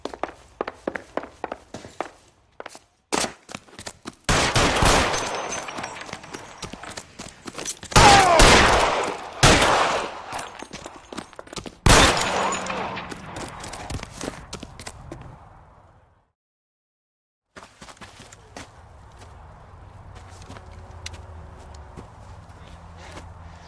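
Gunfire in the L.A. Noire video game: a burst of sharp shots with several dense clusters of bursts, followed by a quieter stretch. Nothing is spoken over the shooting.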